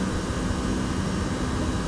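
Airbus A320 airliner engines in a flight simulator during a shallow climb, a steady loud broadband roar with low rumble, continuous and unchanging throughout.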